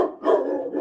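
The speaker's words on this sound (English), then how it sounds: "I got a 145-pound monster of a dog, buddy." A huge 145-pound dog lets out a loud, close, drawn-out bark that runs nearly a second, rising and holding with a howling edge.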